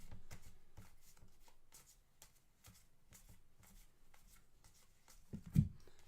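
Baseball trading cards are handled and flipped in quick succession: a run of crisp, close slaps and rustles with brief pauses, and a louder thump near the end, with no talk.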